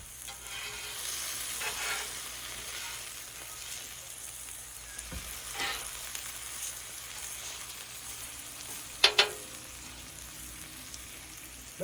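Alligator meat sizzling on a Blackstone griddle gives a steady, close frying hiss with a few brief scraping and clinking sounds, and no one speaks.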